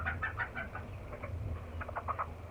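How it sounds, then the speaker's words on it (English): A silkie hen named Hoppy, lame in one leg, gives several soft clucks in short bursts, close by and alone, with low rumbling background noise underneath. "How about if I show you a chicken?"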